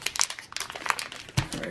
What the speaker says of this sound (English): So we're going to start with the Bear Valley Pemmican. So I'm going to open this up.